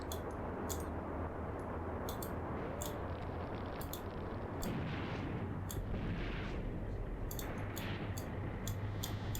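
Heavy 88 mm gun fire from the tank-battle game Graviteam Tactics, with repeated distant booms and crackling battlefield shots over a constant rumbling din, with no voices.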